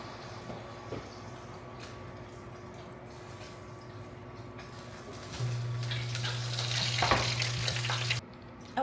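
A Christmas turkey sizzling and spitting in hot butter, a steady fry hiss that swells louder halfway through with crackling pops, then cuts off abruptly near the end.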